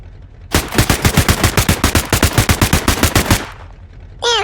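Loud, rapid automatic gunfire in a roleplay video game, with one sustained burst of about twenty evenly spaced shots lasting roughly three seconds, then silence.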